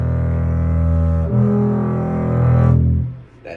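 A double bass E string bowed with too little force, producing a weak, unfocused low tone that wavers and changes around the middle before fading out after about three seconds, played alone.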